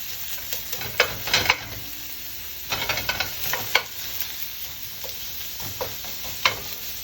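Meat sizzles in a pan, a constant crackling fry broken by intermittent scraping and stirring clatters at irregular intervals, close and with no talking.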